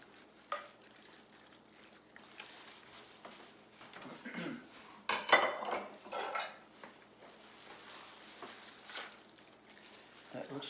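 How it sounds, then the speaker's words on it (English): Italian sausage casserole scraped and dumped from a pan into a baking dish, with clattering of a utensil against cookware and a soft wet slide of food, louder bursts in the middle, under occasional talk. "Now I'm going to take this whole thing and dump it in my baking dish."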